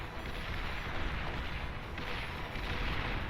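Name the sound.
Mace units opening fire in Beyond All Reason video game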